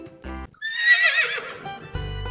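A horse whinnies loudly in a Hindi children's rhyme about a wooden horse, one long descending neigh set between short bursts of bright musical tones.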